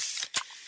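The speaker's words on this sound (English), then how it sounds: "that's the sound of a freshly opened fizz-filled Pepsi" A freshly opened can of fizzy Pepsi gives a bright carbonated hiss, then a short sharp crack-and-whoosh from the tab, followed by a faint fizzing tail, close and with no voices.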